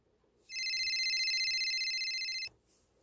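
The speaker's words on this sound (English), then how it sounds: "I got a phone call from one of our locations up in North Carolina." Telephone ringing in a single steady electronic trill about two seconds long, clear and close, starting and stopping abruptly in an otherwise quiet room.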